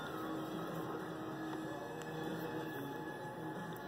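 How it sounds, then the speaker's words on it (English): A vintage Hitachi Century Futura DeLuxe straight-stitch sewing machine in very nice condition runs test stitches, a faint, steady motor hum with a soft, continuous mechanical whir and no pauses. "Cool old Hitachi, straight stitch only, very nice condition machine"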